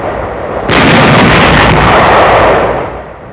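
Artillery fire from the Rhine's west bank near Dusseldorf, 1945, aimed at enemy barges: a loud, sustained roar of heavy firing that bursts in suddenly and rumbles on without pause for several seconds, thick and distant-sounding, with no voices.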